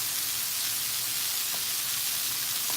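Chicken for tacos sizzles loudly in a Saladmaster pan, a dense, continuous frying hiss close by with faint scattered splatter pops.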